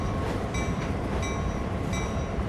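Train running in a video game, a steady rumbling roll with repeated bright tonal squeals or whistles recurring at regular intervals, loud and continuous with no voices.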